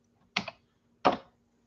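Two separate, sharp clicks on a computer keyboard, close up and fairly quiet, with a pause of about half a second between them and no talking.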